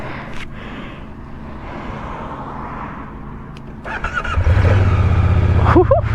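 Moto Guzzi V100 Mandello motorcycle first heard faintly, then the engine cranks and fires into a loud close idle with a quick rev toward the end.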